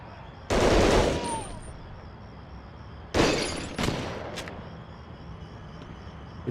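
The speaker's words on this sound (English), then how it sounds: "He's trying to shoot me now." Enemy gunfire in Medal of Honor Underground: loud bursts of automatic fire, one long burst near the start, then two more bursts a few seconds later with a short sharp crack, over a steady low game hum.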